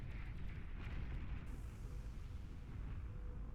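A crawling bomb detonates in the Beyond All Reason strategy game, a sustained, rumbling explosion of broadband noise that stays loud and dense throughout, with no speech over it.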